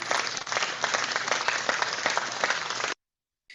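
A crowd claps and cheers continuously for about three seconds at a community show, loud and dense, then cuts off abruptly into silence.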